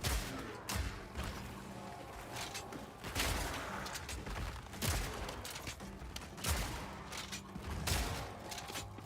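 A steady barrage of muffled thumps and bursts as frag rounds fire in the game Path of Exile 2, dense and continuous over a busy mechanical background.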